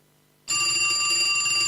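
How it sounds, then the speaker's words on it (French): An old telephone bell rings loudly and continuously on a radio show, bursting in abruptly after a brief near-silence and staying steady and bright to the end. "Quelle idée de faire une émission de radio avec un téléphone qui sonne"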